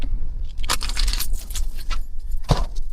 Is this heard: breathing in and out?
no